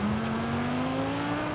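Jaguar car engine in a Forza Horizon 5 race, a steady droning note that slowly climbs in pitch as the car accelerates, heard alone and fairly faint.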